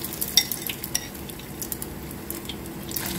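Tikoy glutinous rice cake deep fries in oil, a soft steady sizzle broken by scattered clinks and scrapes of a utensil stirring in the pan.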